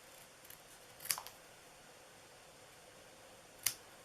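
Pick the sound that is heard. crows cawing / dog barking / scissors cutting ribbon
scissors cutting ribbon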